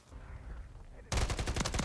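Rapid automatic gunfire from Call of Duty bursts in abruptly after a quiet stretch, a loud, dense rattle of repeated shots.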